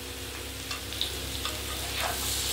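Curry simmering and frying in a pan in a home kitchen, a steady close sizzle with soft stirring scrapes throughout, no voices.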